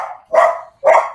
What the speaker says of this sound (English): Oh, God, that fucking dog.